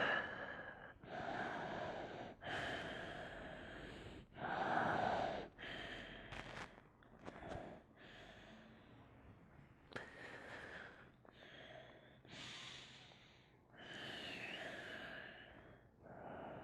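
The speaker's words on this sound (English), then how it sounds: "And just breathe." Slow, audible breaths during a yoga wheel-pose sequence, a series of long inhales and exhales in steady rhythm, close and quiet with no talking.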